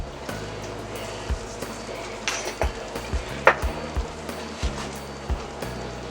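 Potatoes cook in a pan with a low steady sizzle, broken by repeated clinks and scrapes of a utensil stirring against the metal at a close distance, with no voices.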